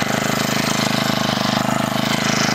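A GeoTech GT-4 36 BP multifunction brushcutter with a petrol engine runs steadily nearby, giving a loud, even, rapidly pulsing buzz with no changes in speed.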